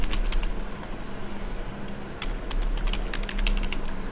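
Rapid clicking keystrokes on a computer keyboard as a password is entered, a close, uneven run of taps with short pauses over a low background hum.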